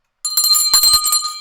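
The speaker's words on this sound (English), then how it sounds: "hit that notification bell" A bright notification bell chime rings out suddenly after a moment of silence, a cluster of quick metallic dings with a ringing shimmer that sustains loudly to the end.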